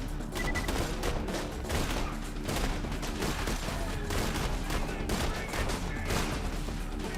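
A gun fires in Borderlands 2 in a steady, unbroken barrage of overlapping shots and projectile impacts, moderately loud throughout, with no speech.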